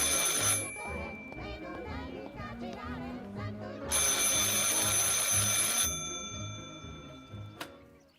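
Telephone ringing in the horror game Martha Is Dead, a bright repeating bell in two clear bursts at the start and middle, sounding over a low, murky game score with a tick near the end.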